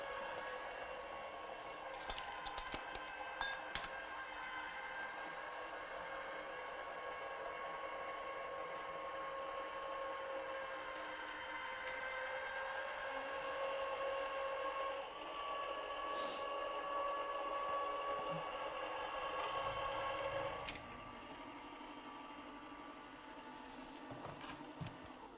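A craft die-cutting machine whirs steadily as it cuts a lily shape, a faint continuous mechanical hum with small clicks and a brief shift partway through.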